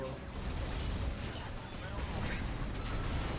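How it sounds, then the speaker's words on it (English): Rockets blasting a ship in a mech combat video game, heard as a dense, continuous roar of rumbling explosions and mechanical clatter that stays loud and steady throughout. "Took out the ship with one blast of rockets."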